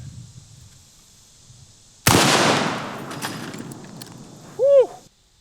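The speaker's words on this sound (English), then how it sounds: "I got out the M1 Garand and we're gonna shoot regular full metal jacket" A single sharp, loud M1 Garand rifle shot firing full metal jacket ammunition, cracking suddenly and trailing off into a long outdoor rumble, followed by a brief metallic ring near the end.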